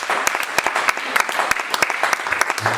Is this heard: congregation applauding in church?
yes